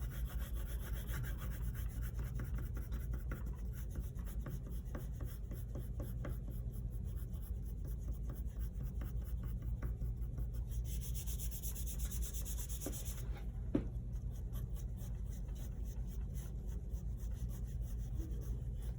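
Pencil drawing of a hand on paper being smudged and rubbed, a steady close scratchy rubbing that continues without pause, with a brief sharper swipe near the end.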